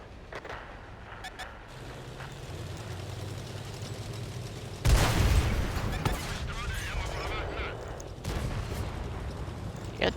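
Two heavy tank cannon shots boom out in a tank video game, each a sudden loud blast with a rumbling tail, set against steady engine drone and battle noise.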